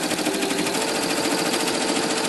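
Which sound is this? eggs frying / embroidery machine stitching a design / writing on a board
embroidery machine stitching a design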